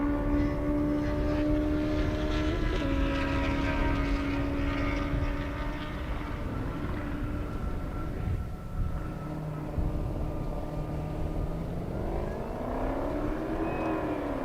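Honda CBR 1000RR motorcycle on a half-mile drag run at an airstrip, its engine a loud, sustained rising whine that holds steady and then swells again near the end, with no speech over it.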